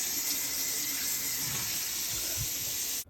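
Tap water pours steadily into a kitchen sink as greens are washed, a loud, close, broadband rush with slight splashing that cuts off abruptly at the end.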